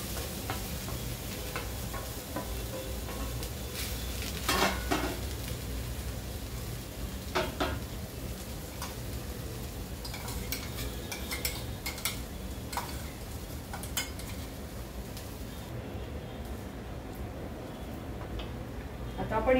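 Peas and potatoes sautéing in a pan for a matar puff filling, a steady sizzle with occasional clinks and scrapes of a spoon stirring, close by and continuous throughout.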